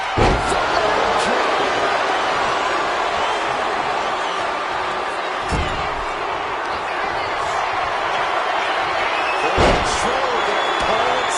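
Heavy body slam in a WWE2K25 wrestling video game cage match, with sharp impact thuds at about 5.5 and 9.7 seconds over a constant roaring arena crowd.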